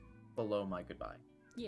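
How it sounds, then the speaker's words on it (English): A pet cat meows loudly and insistently outside a door, drawn-out wailing cries mixed with a person talking nearby at low overall volume. "I'm sure people can hear my cat pretending like he's dying outside my door"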